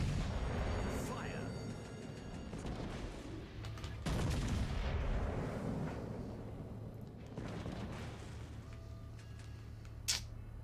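Naval guns boom in heavy, rolling salvos during a World of Warships Legends battle, with deep thuds and repeated blasts layered over constant engine and sea rumble, and a sharp crack near the end.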